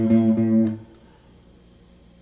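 A guitar note on the first fret of the A string for a kompa pattern is plucked a few times in quick succession, ringing near and clear before fading into quiet, with no voice.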